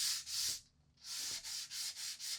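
Sandpaper rubs along the edge of a painted wooden cheese board in a run of steady strokes, a pause, then several more even back-and-forth passes, close and fairly quiet.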